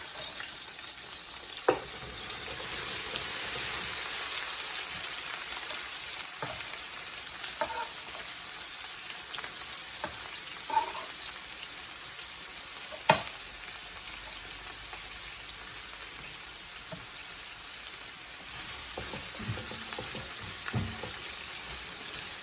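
Cabbage, onion and red pepper fry in oil for Jamaican cabbage and saltfish, a steady close sizzle with scattered pops and occasional utensil knocks throughout, no talking.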